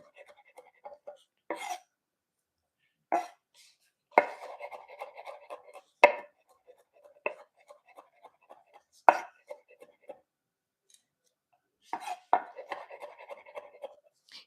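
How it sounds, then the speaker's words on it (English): A knife chops through food on a cutting board in quick bursts of sharp, close taps separated by short pauses, part of preparing seafood Rasta pasta. "take the skin off, and then chop it"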